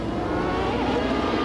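Onboard a CART race car at the 1994 Vancouver street race, the engine roars loud and close with a dense, steady high-revving drone throughout.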